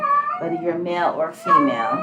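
A cat in heat meows and yowls in the background while someone talks over it in the foreground.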